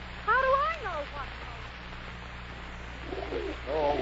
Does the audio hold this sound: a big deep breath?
no